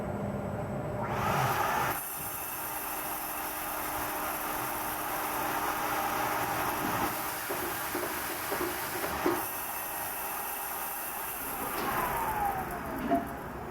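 A plastic molding hopper loader runs steadily, a continuous mechanical hum with vacuum whooshes and rattling as plastic pellets are sucked up, with sharp bursts and clatters near the end.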